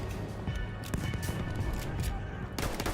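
Bursts of covering gunfire in the World War I shooter Battlefield 1 pop and rattle steadily through dense battle noise, with some louder cracks standing out, while a voice talks over it.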